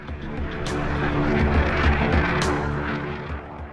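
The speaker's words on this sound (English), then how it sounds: "pushed the throttle into full afterburner, and within seconds, a blaze of fire erupted from the rear nozzle as the aircraft surged" An F-16 fighter jet on full afterburner gives a dense, steady roar that swells and holds loud for a few seconds, with a broad rushing hiss over the deep engine rumble.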